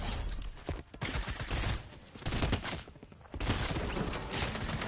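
Gunfire in the video game Fortnite: dense bursts of rapid shots come in loud, broken waves across the whole stretch, with short gaps between volleys.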